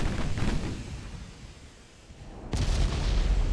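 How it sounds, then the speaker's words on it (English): Heavy cruiser guns in the naval game Ultimate Admiral: Dreadnoughts boom in a low rumbling salvo that fades, then another loud blast hits abruptly near the end. "What are these heavy cruisers firing with?"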